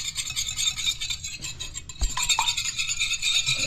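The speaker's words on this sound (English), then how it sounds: "whisk this egg into it." An egg being whisked into a little ice-cold water in a bowl, a steady scraping and clinking of the whisk against the dish with a few sharper knocks, continuous and close.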